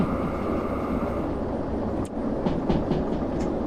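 A train rolling in the Derail Valley game with the train brake thrown, making a loud, dense, continuous rumble with faint hissing and a few brief clanks near the end.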